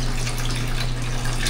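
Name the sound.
water running from a shower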